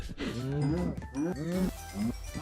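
Cows moo loudly and close in the Minecraft modpack Gregtech New Horizons, several overlapping drawn-out lowing calls in quick succession.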